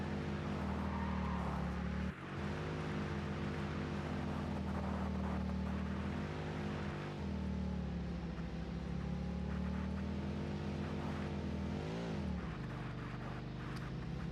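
The Explorer vehicle driving in the factory-building game Satisfactory, a loud, steady engine drone with shifting pitch as it accelerates and eases off, continuous for the whole stretch and with no voices over it.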